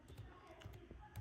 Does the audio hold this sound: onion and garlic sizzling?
no